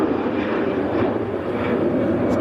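Lufthansa aircraft crossing the taxiway at Manchester Airport, a steady broad jet engine roar heard from a moderate distance, continuous without a clear rise or fall.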